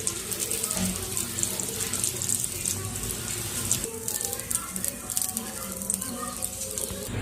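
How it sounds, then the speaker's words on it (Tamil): Milk is poured onto sugar-topped slices of bread, a steady liquid splashing and trickling that runs continuously and close for the whole stretch, with faint background noise and no talk. "இப்போ இதில் பால் ஊற்றுறோம்"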